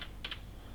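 A couple of quick, faint keyboard taps while an email address is typed on a computer keyboard, with quiet room noise around them.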